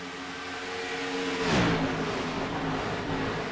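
Race car engine in the iRacing sim during an Xfinity Series race at Chicagoland roars steadily, then surges into a loud rising rev and whoosh as the car makes a big run, settling back into a sustained high drone.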